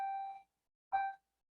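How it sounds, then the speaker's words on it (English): A bell chimes twice in a quiet room. Each tone is a short, clean ding that rings briefly and then dies away, separated by a pause. "Excuse the bell."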